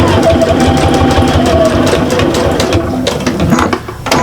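A sewing machine runs steadily while back stitching through fabric on a Missy bag, its rapid needle chatter close and loud throughout, easing off slightly near the end.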